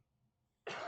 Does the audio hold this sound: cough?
yes